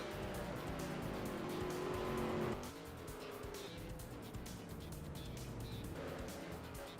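Race cars running in a pack behind the pace car in a racing video game at Brands Hatch Indy, a steady loud engine drone with a shift in tone midway as cars pass.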